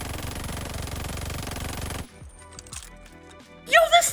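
A Nikita AVT assault rifle fires rapidly with a 60-round drum magazine in the World War II shooter Call of Duty: Vanguard, a dense even burst of shots for about two seconds that then stops, followed by quieter game clatter and a louder final hit.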